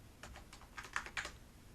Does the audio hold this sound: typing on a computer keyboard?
yes